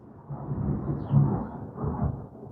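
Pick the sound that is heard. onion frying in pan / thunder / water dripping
thunder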